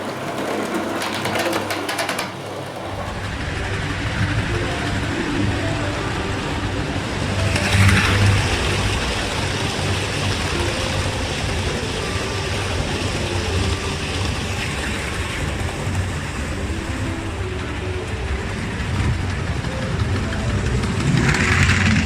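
A model train locomotive hauls a rake of coaches around a layout, giving a steady, powerful mechanical hum and whir that runs continuously at moderate loudness, with a brief louder swell partway through and no talk.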